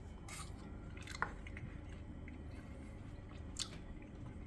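Someone chews a bite of raw fish ceviche close up, giving soft wet squishing and smacking sounds with a couple of faint clicks over a low background hum.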